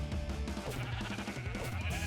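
Sheep in the Minecraft video game bleat repeatedly in a loud, close cluster of overlapping calls with no talk.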